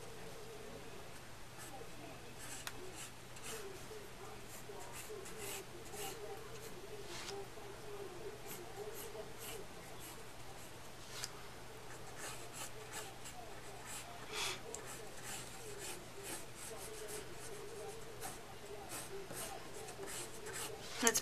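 A pencil sketches pompadour hair in quick strokes outward from the head, giving a faint, continuous scratchy rubbing over a low steady background hum, with brief scratches repeating throughout.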